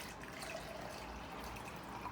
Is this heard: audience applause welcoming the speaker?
no